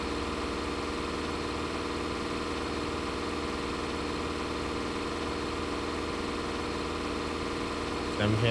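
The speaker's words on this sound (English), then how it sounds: "We're gonna find out if this Ford tractor was worth it." A Ford tractor engine idles steadily in a farming video game, a constant mid-to-low drone with a faint mechanical hum running unbroken, with a brief louder clunk right at the end.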